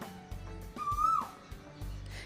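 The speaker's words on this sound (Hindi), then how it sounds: "और ये देखिए कोयल की आवाज़" An Asian koel calls in the morning from a tree right in front of a house, a single rising whistled note standing out over quiet background and faint low hum.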